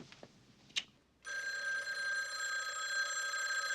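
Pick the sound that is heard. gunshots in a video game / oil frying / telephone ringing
telephone ringing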